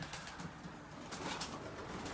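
Racing pigeons coo in a race loft, soft low murmuring calls repeating close by against a steady noisy room background, brief and without talking.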